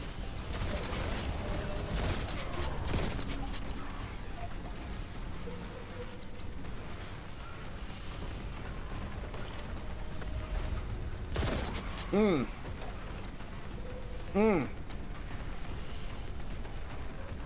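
Repeated shotgun blasts from the Warhammer 40K: Boltgun video game ring out in dense bursts over constant loud game noise and mechanical clatter, with a few distinct heavier shots standing out.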